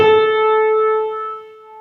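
A single sustained musical note A rings out clearly with a sharp attack, then slowly fades over about two seconds.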